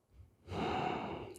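A single long, breathy exhale during a forward stretch in a yoga session, close and steady after a brief quiet start, with no talking.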